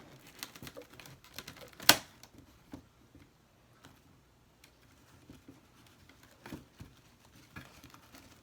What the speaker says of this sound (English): These flowers cut so easy.